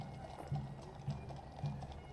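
Horses of the Changing of the Guard at Buckingham Palace, their hooves clopping faintly in a few spaced, soft strikes over a steady outdoor hum, with no voices on top.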